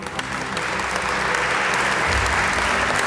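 Steady, full applause from an indoor audience in the Kennedy Caucus Room of the Russell Senate Office Building at a Jewish American Heritage Month celebration, sustained and even throughout.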